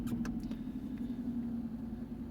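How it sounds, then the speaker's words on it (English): A 2010 Jaguar XF engine running, a steady low idling rumble heard close, with a few faint clicks near the start and no talking. "If you want to start the car,"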